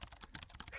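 Quick, irregular clicks of fingers typing on a computer keyboard, close and faint, in a single short burst with no voices.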